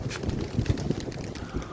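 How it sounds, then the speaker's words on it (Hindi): Strong wind gusting across a rooftop pigeon loft buffets the microphone with a continuous low, rumbling roar that swells and eases unevenly. "ऊपर तो हवा बड़ी ज़बरदस्त ज़बरदस्त चल रही है"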